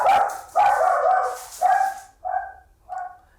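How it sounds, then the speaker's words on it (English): Pet dogs bark excitedly inside a home, probably at a delivery arriving: five loud, close barks in quick succession, the first two long and heavy, the last three shorter and softer, with no talking. "that was my dogs kind of going crazy"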